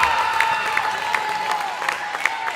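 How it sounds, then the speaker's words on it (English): A crowd at a girls' high school basketball senior night, Vista del Lago at Bella Vista, cheers and claps in a steady wash of applause and shouts filling an indoor gym, with a loud sustained tone running beneath. "They're cheering her on."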